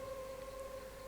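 An ambulance siren carrying a body away from the middle of a forest along a footpath: a faint, steady wailing tone heard from a distance over low background noise, with no voices.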